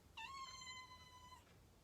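A house cat named Ellie gives a single drawn-out meow, clear and fairly close, in an otherwise quiet room.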